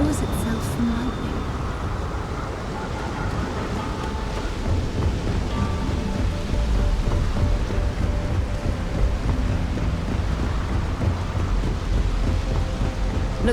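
Rain and rolling thunder over Neon, a city powered by lightning in the game Starfield, a steady storm rumble with wind noise throughout and no clear single thunderclap.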